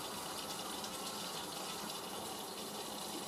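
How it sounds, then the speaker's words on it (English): A Miele W562 washing machine doing a cascade water fill during its rinse: steady, faint rushing and splashing water that runs continuously, with no pauses. "I love the cascade fill on these."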